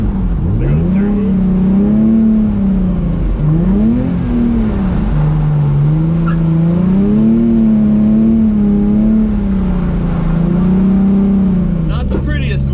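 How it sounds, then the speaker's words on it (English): A car drifts around a course, its engine revving loud and close with a continuously rising and falling pitch as the throttle is worked through the slide, steady from start to finish. "So we want to initiate the drift and then stay in drift for the whole course."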